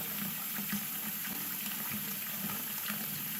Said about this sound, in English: you can keep the hot water running for a long time